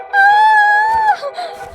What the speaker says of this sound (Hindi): क्यों चिल्ला रही हो?